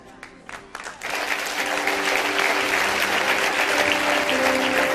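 Church congregation breaking into loud, sustained applause and cheering that swells after a brief quieter start and holds steady throughout, dense and close.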